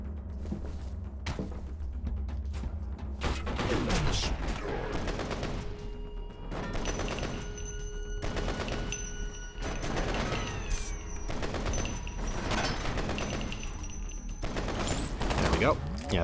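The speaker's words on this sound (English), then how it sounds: "the ASP rifle's better just because it's high damage, fast moving projectile" ASP rifle fire in the shooter game F.E.A.R. comes as rapid, dense volleys of loud gunshots, repeated in bursts over a steady, noisy battle din with crashes and impacts.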